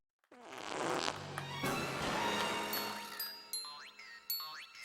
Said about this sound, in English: Phoebe just farted!